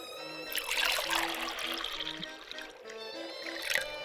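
Liquid pours and trickles steadily into a pot of leaf soup in a video game, a continuous close splashing stream that swells and eases over a soft musical backdrop.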